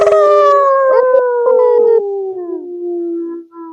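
A man imitating a wolf howl with his voice, one long sustained loud howl that slides slowly downward in pitch over several seconds and fades at the end.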